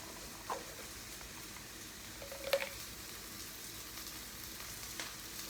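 Onions frying in oil in a pan, a soft steady sizzle with a faint crackle and a brief louder pop about midway, heard alone.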